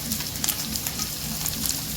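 Chopped vegetables and onion sauté in well-heated oil on high flame for a chicken chow mein roll: a dense, continuous close sizzle with a steady rain-like crackle throughout.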